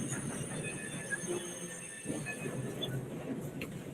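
Train rumbling along steadily in a video game, a continuous dense low roar with faint metallic squeals and high tonal whines above, loud and close throughout the clip.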